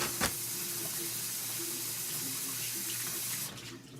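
Water runs steadily from a kitchen tap into a sink to soak dishes, a constant close hiss and splash after a brief knock, easing off near the end.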